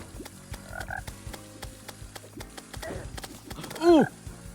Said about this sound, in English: Truffle toad.